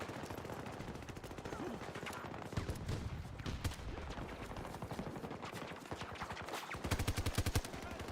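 Machine gun fire in the Battlefield video game rattles in continuous rapid bursts with dense overlapping gunshots. The volume stays steady and heavy throughout, with a sharper close volley near the end.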